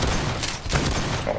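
Rapid gunfire from a weapon in the browser game surviv.io, a dense, continuous burst of shots with thumping low end, loud and close throughout.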